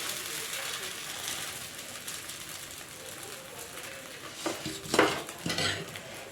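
Paper dosa batter is spread thinly across a hot pan, soft scraping and sizzling strokes that grow louder near the end, with a faint clink of utensils.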